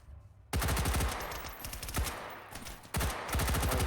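Rapid bursts of gunfire ring out in a video game match, with a quick volley followed by two more clusters of closely spaced shots, loud and close with no talk over them.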